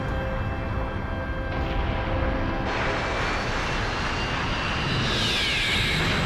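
A Gundam mobile suit in flight during an anime scene gives off a loud, continuous jet-like roar that builds and brightens partway through, with a whooshing sweep near the end and no talking.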